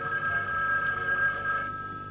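A telephone rings continuously with a bright, steady electronic bell tone, fairly close and moderately loud over a faint room background, with no talk.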